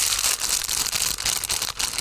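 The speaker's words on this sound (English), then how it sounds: "ASMR plastic bags, anyone? Or cellophane?" Plastic bags or cellophane are crinkled and handled close up, a dense, continuous crackling rustle with irregular louder crunches throughout and no voices.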